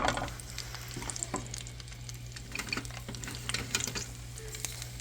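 Onion sizzling as it hits a little hot oil on a stove, a steady crackling fry with scattered pops and occasional stirring scrapes throughout, fairly close and moderate in level, with a low hum underneath and no talk.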